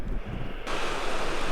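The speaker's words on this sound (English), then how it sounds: "This is the bridge that crosses over Flow Creek, and that's Flow Creek" Flow Creek rushing beneath a bridge along the Rockwall Trail in the Canadian Rockies, a steady broadband roar of flowing water that swells louder partway through, close and continuous with no voices.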